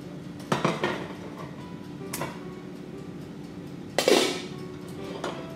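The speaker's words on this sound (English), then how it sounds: "Now we're going to take another saucepan." Saucepan handled in a home kitchen, several clanks and knocks of metal cookware against the stovetop, one louder clatter near the end, over a quiet background hum.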